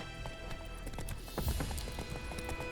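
Horse hooves clip-clop steadily at a riding pace in The Witcher 3, a continuous rhythmic patter over a game soundscape of ambient music and background noise, with no talk.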